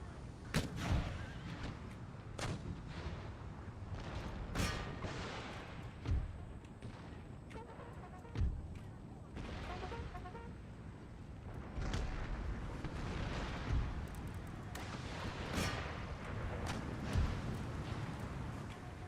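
Musket volleys and artillery booms in Empire: Total War, a USA campaign battle, with repeated sharp cracks and heavy thuds scattered irregularly over a low battlefield din, moderately distant.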